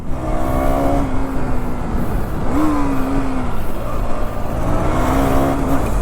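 A KTM Duke 390 motorcycle that has just started idles with a close, loud engine drone, rising into short revs a few times. Faint voices are heard in the background.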